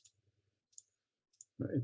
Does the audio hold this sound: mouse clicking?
yes